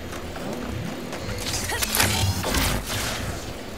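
Bolts are collected in the Ratchet & Clank Rift Apart video game, a busy mix of mechanical clinks, thuds and whooshing pickups layered over continuous game noise, dense and fairly loud throughout.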